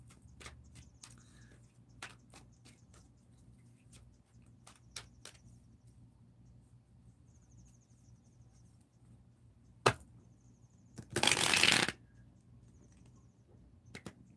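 Tarot cards being handled and shuffled: a series of sharp, close card snaps and taps spaced irregularly, then a brief loud riffling burst near the end, with no voices.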